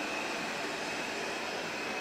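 Airplane near Orly airport, a steady broadband jet roar filling the whole clip at constant loudness, continuous and fairly close with no voices.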